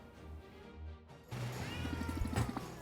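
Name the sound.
cats meowing in video game Potionomics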